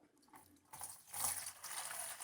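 Concrete stain poured into a sprayer, a faint soft trickle that starts after a quiet moment and keeps up as a low, steady hissing flow.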